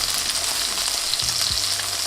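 A smash burger patty topped with cheese sizzles and fries steadily in a hot pan, a continuous close crackle with a few soft stirring or shifting thumps.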